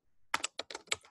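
A name being typed on a computer keyboard: a quick burst of about six crisp plastic key clicks in an uneven rhythm, close and clear, with no talking.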